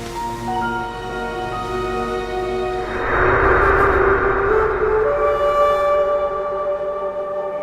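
An ambulance siren wails continuously, a sustained tonal sweep that swells louder midway through before settling, close by and prominent with no voices over it.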